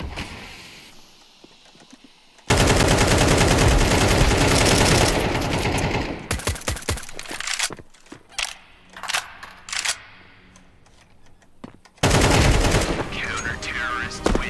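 Dense bursts of automatic and single-shot gunfire from a round of the shooter game Counter-Strike 2, loud and sharp, in two long heavy volleys with scattered pops in between, mixed with game sound effects.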